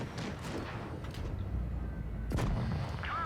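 Tank cannon fire in World of Tanks Blitz, a heavy booming shot with a rumbling tail over constant engine and battle noise, followed later by another sharp blast.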